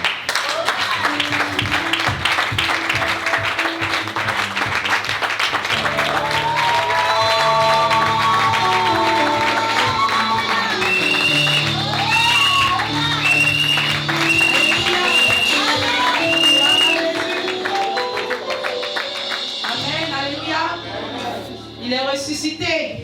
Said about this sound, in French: vous allez m'aider à vraiment l'acclamer